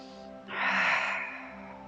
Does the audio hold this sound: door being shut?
no